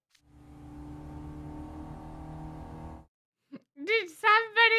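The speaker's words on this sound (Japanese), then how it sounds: "学園内でエンジン音？" Engine revving inside a school building in the game Twisted Wonderland: a steady, harmonic motor drone holds for about three seconds, then cuts out, followed by short bursts of voice.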